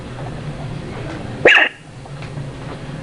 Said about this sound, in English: dog's barking